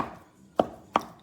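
Mince for chilli con carne being chopped up in a pot, three sharp knocks spaced unevenly after a quiet start.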